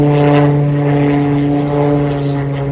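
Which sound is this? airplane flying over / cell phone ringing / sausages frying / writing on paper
airplane flying over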